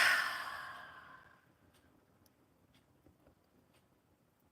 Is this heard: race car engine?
no